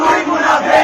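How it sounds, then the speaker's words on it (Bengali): A dense crowd shouts political slogans in unison at a heated rally, a loud, close roar of many voices that swells and dips over a short burst. "একজন আরেকজনের বিরুদ্ধে দিয়ে যাচ্ছে অশালীন স্লোগান"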